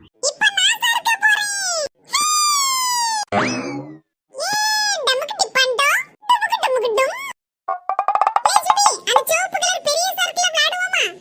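A cartoon child cries in drawn-out, wavering wails, loud and close, alternating with animated voices talking in a lively exchange.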